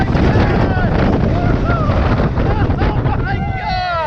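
Onboard the Xcelerator roller coaster at Knott's Berry Farm from the back seat: loud, steady wind roar and rumbling track noise throughout, with excited shouts and screams from riders over the rush.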